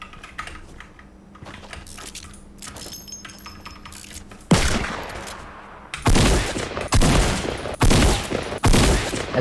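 Loud OG tactical shotgun and revolver shots in Fortnite ring out in a string of sharp blasts about a second apart, following several seconds of quiet keyboard clicking.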